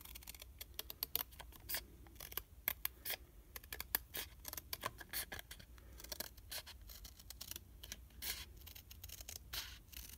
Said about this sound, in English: And then we're just going to cut down this line to cut out our center